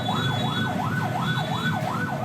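The siren of an ambulance carrying a critical patient wails through a traffic jam on the Cibadak arterial road. Its tone sweeps steadily up and down over a constant low traffic rumble, fairly close and loud.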